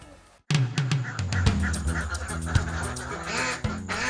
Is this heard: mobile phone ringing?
no